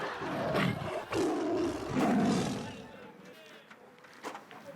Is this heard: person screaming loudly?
no